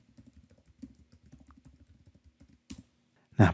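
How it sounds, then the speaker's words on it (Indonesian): Soft, rapid keyboard clicks of a password being typed on a computer keyboard, a run of light taps ending in a louder, sharper key strike, close and alone. "Enter lalu masukkan password."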